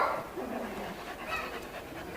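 A dog behind a fence pants steadily and close, with quick rhythmic breaths filling the short stretch and no other sounds standing out.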